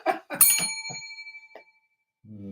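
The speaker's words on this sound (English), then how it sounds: "we touch the bell light, it makes a nice resonating ding" A touched bell light gives a single clear, resonating ding with a bright ringing tone that decays slowly over about a second, after a short stretch of other sound, then silence and a faint low hum.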